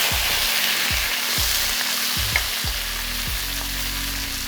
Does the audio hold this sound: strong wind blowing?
no